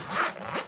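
A clothing zipper being worked back and forth to free a stuck bookmark, a close, steady rasping scrape lasting under a second with no talking.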